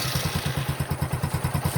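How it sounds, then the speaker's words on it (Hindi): A gearless scooter engine, just started after sitting unused for a long time, runs at a steady idle with a rhythmic low thumping putter and light mechanical clatter, close and continuous throughout. "ये देखिए, मैंने इंजन को भी स्टार्ट कर दिया है।"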